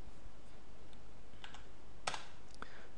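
A computer keyboard key pressed on a Windows PC during video editing gives a short sharp click, close and clear over quiet room tone, with a fainter tap just before and a smaller one after.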